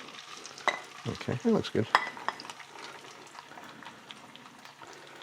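Potatoes frying in hot oil in a pan and being stirred, with a run of loud scraping stir strokes near the start, then a steady low sizzle. A voice speaks briefly.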